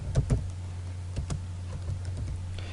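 Keys tap on a computer keyboard during HTML coding, with a few separate clicks and short bursts spread over a few seconds, close and fairly quiet over a low steady hum.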